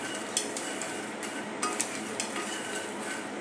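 Makhana (fox nuts) roast in a pan over low heat, giving a soft continuous hiss with light rattling and a few faint clinks as they are stirred.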